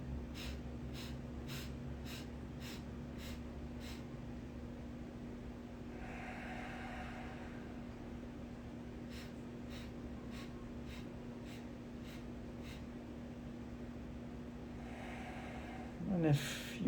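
Quick nasal breathwork puffs in an even, rapid rhythm during a meditation session, a spaced run of sharp snorting exhales that pauses and returns, close but fairly soft over a constant low hum.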